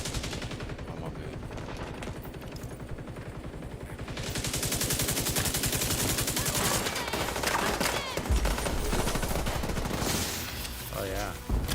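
Sustained rapid automatic gunfire from a firefight in The Division 2, a dense rattling barrage that grows louder partway through and continues with scattered bursts, with talk faintly present in places.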